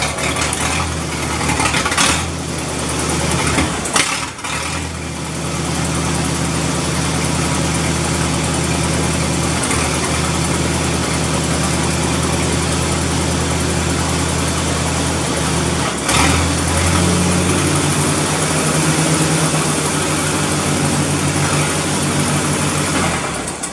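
A Massey Harris 30 tractor engine, long unused, cranks and catches, then settles into a loud, steady, close idle with a deep rhythmic chug and a slight shift in tone partway through.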